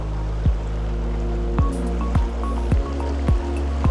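A mountain trout stream flows steadily with a broad rushing wash, broken by several sharp plopping drips and splashes close by.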